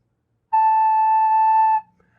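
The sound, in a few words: recorder playing note A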